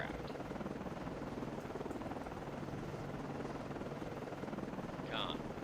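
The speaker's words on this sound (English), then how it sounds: "launching aircraft" A Seahawk helicopter launches from a frigate deck in a naval video game, its rotor making a dense, steady roar with rhythmic chop, loud and continuous, while voices speak quietly beneath it.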